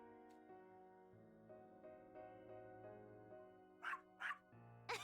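A puppy in a video game barks in three quick, bright yaps near the end, over a steady tonal music bed that fills the rest of the moment.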